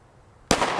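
A single sharp gunshot from a short-barreled 5.7x28mm rifle firing 40-grain Barnes VLC ammunition cracks loudly after a quiet moment, followed by a brief ringing decay.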